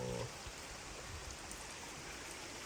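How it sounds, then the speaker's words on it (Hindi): A natural waterfall in the Al-Raith mountains of Saudi Arabia, a steady close hiss of falling and splashing water that stays even and fairly quiet throughout, without voices. "यहाँ से कुदरती आबशार बह रहे हैं"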